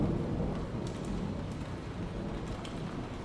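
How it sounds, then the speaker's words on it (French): Steady rain with low rumbling thunder in a horror game, a continuous dense wash of downpour with deep rolling booms underneath, constant and moderately loud. "j'ai vraiment l'impression qu'il y a du tonnerre chez moi"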